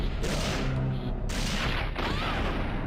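Grenade launcher fire in the video game Resident Evil comes as loud, broad blasts with rumbling tails, two or three heavy bursts in quick succession filling the short stretch.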